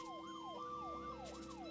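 An ambulance siren in the video game Troubleshooter wails in a steady rising-and-falling cycle, faint and continuous, with a few brief high chimes near the end.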